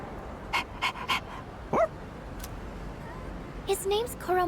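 Koromaru, a dog in the video game Persona 3 Reload, gives a few short panting huffs, a rising whimper and some yippy calls over a low game background, close and moderately loud.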